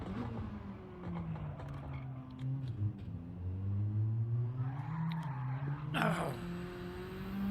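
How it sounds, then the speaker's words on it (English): Gran Turismo 7 race car spinning its tires on a time-trial lap, a sustained engine drone rising and falling with a sharp tire squeal breaking out near the end, fairly loud and without talk. "Spun the tires."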